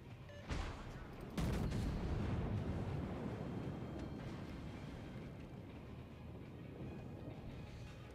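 Warship guns boom in a naval battle game, two heavy blasts close together followed by a long rumbling roar that slowly fades.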